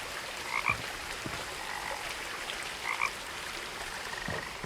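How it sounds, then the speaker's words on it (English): Frogs croak in What Remains of Edith Finch, with two short croak bursts about two seconds apart over a steady, quiet outdoor ambience and no voices. "Can I see the frog?"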